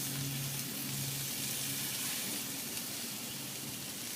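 Turkey bacon burgers sizzle on a grill in a steady, close hiss of frying fat that runs unbroken throughout, with no talk over it.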